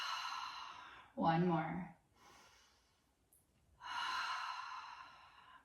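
Deep, full inhale and exhale during a gentle beginner's yoga flow, one long audible breath between soft spoken instructions from a teacher.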